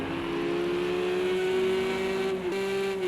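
Porsche GT3 race car engine in a racing video game at the Le Mans Bugatti Circuit, a sustained high revving tone that climbs steadily and then drops briefly at a gear shift, loud and close with no speech.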